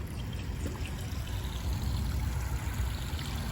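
Garden water feature trickling and pouring steadily outdoors, a continuous close wash of falling water with no talk.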